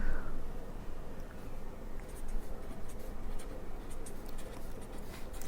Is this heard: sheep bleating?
no